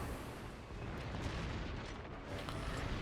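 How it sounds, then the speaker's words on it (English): Dense, continuous rumble of naval gunfire and shell impacts in a World of Warships–style battle with the ship Kurfürst, low booming blasts layered over each other without pause, no talking. "everybody and their sister is throwing shots our way"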